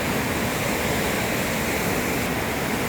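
Mandakini river at Agastyamuni rushing past, a loud, constant broadband roar of heavy flowing water with no pauses.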